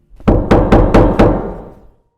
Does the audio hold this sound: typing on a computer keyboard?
no